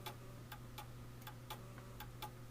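A pendulum clock ticks out of beat, its faint, uneven tick-tock sounding at irregular intervals in a quiet room, heard alone with a steady low hum beneath.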